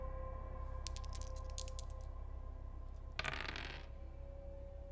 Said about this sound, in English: I grab the dice from my side table, and I roll them across the floor